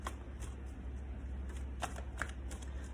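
A deck of tarot cards is riffled and shuffled close up, a quick papery flutter with sharp slaps over a low steady hum and no talk.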